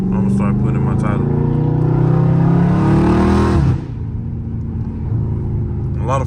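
A Dodge Charger Scat Pack engine drives down a street, with a loud, sustained rumbling rev that climbs in pitch before cutting off abruptly and settling into a lower drone.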